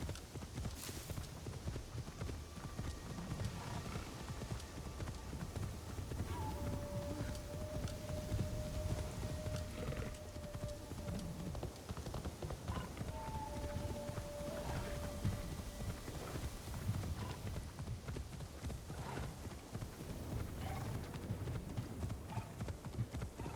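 A pony's hooves clip-clop steadily at a walk in the video game Assassin's Creed Shadows, a continuous rhythmic patter over a busy ambient game soundscape, with a few faint tonal game cues and no speech.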